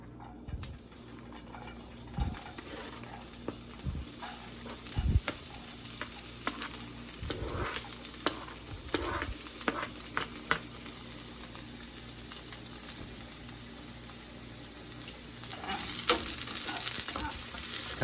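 Chopped half onion sizzling and frying in a hot pan over medium-high heat, a steady crackling hiss with occasional stirring scrapes, close and continuous with no talking.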